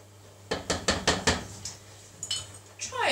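A utensil scrapes and clatters against a pan as ginger is stirred for a prawn noodle salad, with a quick run of five or six knocks and then a few scattered scrapes in a quiet kitchen with a steady low hum.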